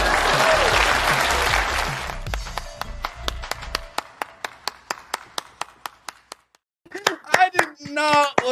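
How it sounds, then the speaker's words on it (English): Applause from a small group swells briefly, then thins into a single person's slow, evenly spaced claps. A voice talks after the claps stop. "Please clap."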